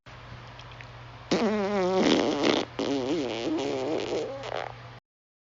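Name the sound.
fart sound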